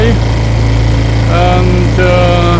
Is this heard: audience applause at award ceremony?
no